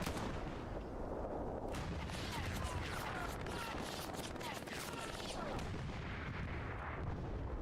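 Gunfire in a competitive online shooter match rolls on almost without a break as dense overlapping bursts and booms, loud and busy throughout.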